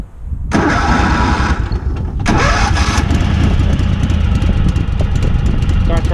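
An engine with a clutch is cold-started. After a brief cranking burst it catches and roars up, drops back briefly, then revs again and settles into a loud steady running note, close by.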